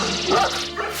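Dogs Zeus and Gomi, Ovcharka dogs, barking fiercely indoors, close and loud with a sharp bark rising over constant background noise.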